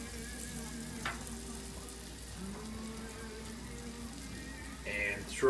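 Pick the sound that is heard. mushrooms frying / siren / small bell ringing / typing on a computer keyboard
mushrooms frying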